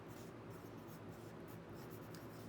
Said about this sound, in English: So let's do some marks with the point of the pencil.